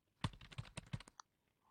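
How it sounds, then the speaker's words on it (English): Computer keyboard keys pressed in a quick close burst of clicks, several sharp taps in a row like a Control and G shortcut, followed by a faint tone. "Press Control and the letter G on your keyboard."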